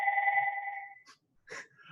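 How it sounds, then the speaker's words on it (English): A rubbed water-filled crystal glass rings with a steady, pure sustained tone for about a second, then fades out, followed by brief faint scuffing noises. "So the glass vibrates and creates a frequency."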